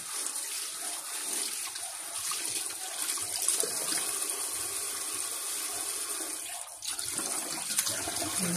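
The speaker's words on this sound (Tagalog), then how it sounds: "pagsamahin na po natin sa paghugas yung bangus at saka yung alumahan" Steady tap water runs continuously into a sink as milkfish and mackerel are rinsed, a broad even hiss with a brief dip near the end and no talking.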